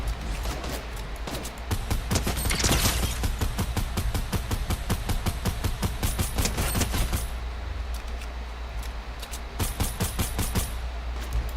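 Rapid automatic gunfire in Fortnite OG, long bursts of fast shots with brief gaps, close and loud, continuing in clusters before thinning to a few scattered rounds.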